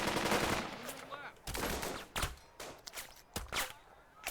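Rapid gunfire bursts from suppressing fire in the Burden of Command video game, loud machine-gun rattles in several bursts with brief gaps, alone without talk.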